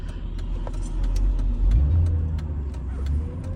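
Mercedes SL55 AMG on Neomax coilovers driving along a road, a steady low engine and road rumble heard from inside the car, swelling slightly midway.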